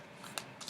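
Tarot cards being shuffled in a brief flurry of soft riffling snaps, quiet and close.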